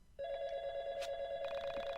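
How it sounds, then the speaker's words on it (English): A phone in the YIIK video game rings with a steady electronic trilling tone, loud and close, continuing through the whole clip. "phone ringing"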